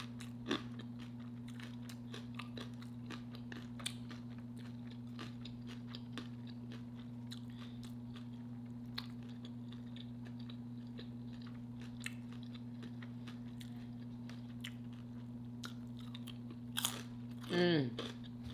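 Someone bites and chews homemade chicken salad up close, with soft crunches and wet mouth sounds over a steady low electrical hum, ending in a brief louder rustle.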